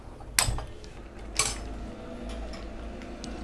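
Sakkarai pongal rice stirred in a pot: two distinct metallic scrapes or clinks of a spoon against the vessel about a second apart, followed by softer faint scraping over low background hum.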